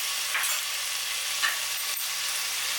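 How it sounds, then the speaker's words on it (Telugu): A pot of chicken fry piece biryani rice mixed with homemade biryani masala is stirred, with a faint steady sizzle and a few soft scraping sweeps of the spoon, no voices present. "చక్కగా బిర్యానీ మసాలా యాడ్ చేసిన తర్వాత మొత్తం ఇలా కలుపుతూ మిక్స్ చేసుకోండి."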